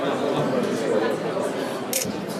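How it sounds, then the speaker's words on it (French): A Fujitsu Arrows quad-core waterproof smartphone takes a photo, its shutter giving one short click near the end over the steady murmur of an outdoor crowd. "Je prends la photo."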